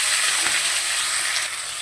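Cut potatoes for aloo posto drop into hot oil and sizzle, a close, steady hiss of frying with no voices.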